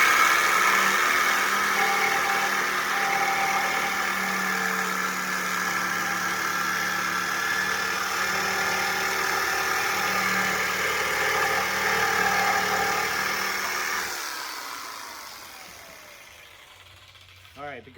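A power tool cuts into the thin sheet metal of a car trunk side panel during a car audio rebuild, a loud continuous grinding whine for about fourteen seconds before spinning down and stopping.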